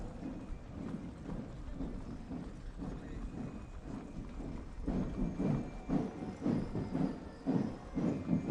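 Hooves of 55 cavalry horses, ridden by army cavalry soldiers and Serikandi riders, clop in a steady rhythmic procession at the 79th TNI anniversary parade, growing louder and more distinct midway over a continuous outdoor crowd hum.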